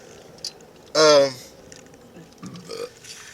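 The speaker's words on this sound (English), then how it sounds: "I did not mean to burp in y'all's face" A single short, loud burp from a person outdoors, a throaty croak lasting under half a second, followed by faint rustling and quiet mouth sounds.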